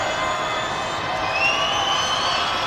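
A basketball crowd at a National Basketball League Division Two game in Worcester cheers and shouts in a dense, steady roar, filling the hall with sustained noise that swells slightly midway.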